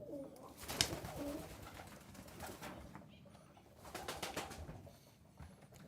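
Pigeons coo softly inside a very large aviary with nesting boxes, a low, steady murmur of calls at a distance, with a brief louder flutter early on and no talking.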